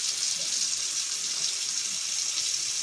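Tap water runs in a steady, loud hiss and gush throughout while a teflon-taped pipe joint is tested, with no pauses and no talking.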